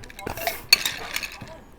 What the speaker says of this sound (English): you don't need a fancy bar spoon to stir, but I'm fancy